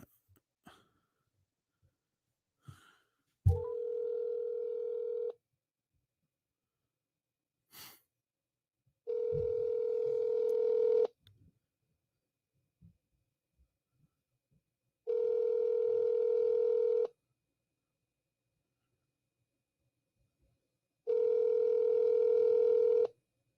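A phone call is placed from a handset: scattered key presses and clicks, then a steady telephone tone rings out in four even bursts of about two seconds each, separated by long silent gaps.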